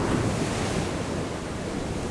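Ocean waves along a coast where fishermen ride the surf at dawn, heard as a steady wash of rolling surf with wind noise, continuous and fairly close, with no voices.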